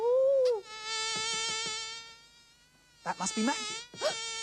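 Bluebottle fly buzzing in a children's puppet show, a steady high-pitched drone that flits in and out in short bursts while a voice speaks over part of it.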